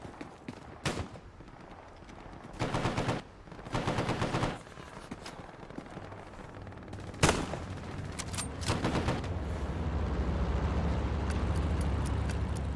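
Light machine gun fire in Hell Let Loose on the Tobruk map, aimed at light armour: repeated rapid bursts with heavy distant booms, continuing into sustained rattling fire and a low rumble.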